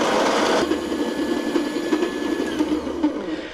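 An electric coffee grinder grinds raspberry-flavored coffee beans with a loud, steady, close whirring buzz that runs without pause and eases slightly toward the end.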